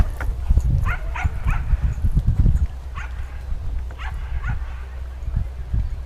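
A hunting dog barks and yips at an outdoor fox hunt, with a cluster of loud, close barks early on and scattered fainter yelps later, over steady wind-like background noise and someone talking.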